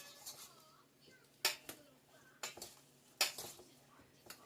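A spoon stirs pie filling in a bowl, sounding as a run of scraping, clinking knocks against the dish that come at an irregular pace, with faint background noise in between.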